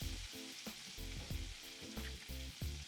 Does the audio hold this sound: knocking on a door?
no